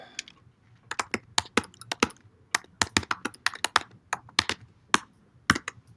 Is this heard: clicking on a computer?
yes